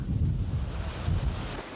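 Strong wind buffets the microphone during a forest fire near the village of Cisco on the Cap road, a steady loud low roar with swelling gusts and no voices.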